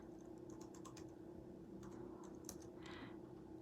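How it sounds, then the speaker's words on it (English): Quiet, rapid clicking of typing on a computer keyboard, scattered short keystroke bursts over a few seconds against a steady low background hum, with no one speaking. "So I'll type in Felina."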